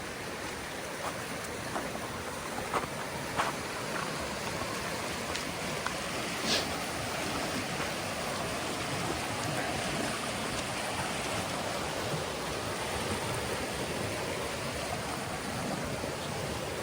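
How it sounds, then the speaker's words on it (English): Steady flowing water runs across a running trail well away from the river, a continuous broadband rush with faint splashes, sustained and alone with no talk. "where is this water coming from? The river's over there."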